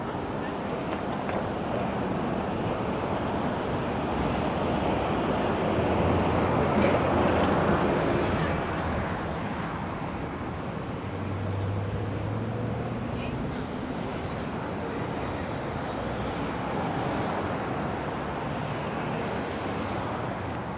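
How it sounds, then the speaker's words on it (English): Wind gusting outdoors in New York City, a steady loud rush buffeting the microphone that swells briefly and then settles into a constant roar. "Ooh, the wind is back, feels good."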